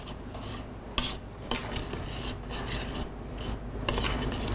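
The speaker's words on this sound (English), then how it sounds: "get that stirred up as much as you can" A utensil scrapes and rasps steadily against a pot as flour is stirred into oil and butter for a roux, close and fairly quiet, with a few sharper knocks along the way.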